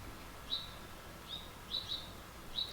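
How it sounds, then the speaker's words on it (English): A cardinal and baby birds in a yard give sharp, high chirps, about five short calls spaced irregularly, faint against a quiet background. "Baby bird crew is back, and we got a mama cardinal caught up in the middle of it."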